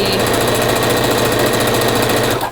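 A sewing machine stitches a half-inch seam along the perimeter of a flannel rag quilt, running as a fast, steady, close mechanical whir of needle strokes that stops abruptly at the end.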